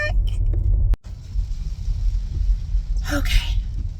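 A car drives through a small neighborhood, its engine and road noise a steady close rumble inside the cabin, broken by a sudden jolt early on, with brief voices over it.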